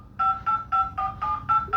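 Dial pad touch tones from a Poco phone, seven short evenly spaced beeps in quick succession, clean and close with nothing else audible.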